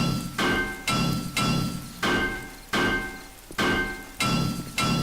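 Claw hammer striking blocks in the 7 Days to Die video game, five sharp rhythmic impacts spaced about a second apart, each a loud clunk with a ringing tail, no speech.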